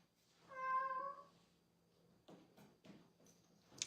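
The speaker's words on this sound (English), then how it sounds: "She meows like that when she thinks she caught something." A pet cat gives a single soft, drawn-out meow, faint and fairly close, followed by quiet rustling and light ticks.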